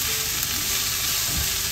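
Chili, onion and garlic with salt sautéing in a hot pan, giving a loud dense steady sizzle with faint stirring knocks near the end, close by and without talk.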